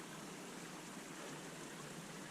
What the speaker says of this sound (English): There's a cool little brook here